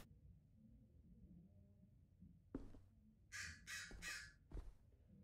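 A crow in the video game Backbone gives three quick harsh caws, faint and somewhat distant, after a couple of soft thuds in a quiet scene.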